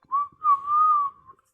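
A single human voice whistles a short, clear, wavering tone in three quick joined pulses, close and alone, imitating a whistle.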